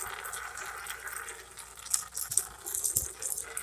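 Old, black transmission fluid draining from the plug of a 2018 Ford Escape, a faint, steady liquid trickle and splash with light rattles, heard close and alone.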